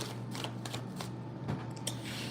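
A deck of cards is shuffled in quick riffling bursts, close and crisp, several rapid flutters over a faint steady hum, with no voices.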